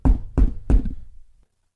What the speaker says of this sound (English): and there was a knock at the door.